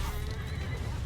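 Horses of horse archers in Mount & Blade II: Bannerlord neigh and whinny with clip-clopping hooves, loud and close in a short continuous burst of game noise.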